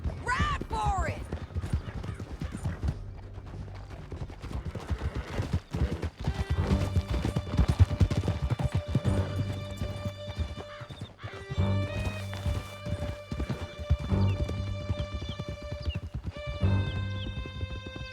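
Horses gallop hard during an escape ride through a canyon in Red Dead Redemption 2, with rapid hoofbeats, whinnies and neighs, under a swelling orchestral score and shouted voices.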